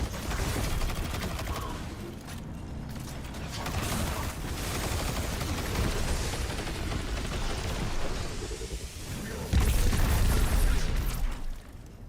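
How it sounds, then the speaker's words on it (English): Dense machine gun fire in Destiny 2, rapid sustained bursts and booming impacts running almost continuously, growing louder toward the end before cutting off abruptly. "And I love my machine gun."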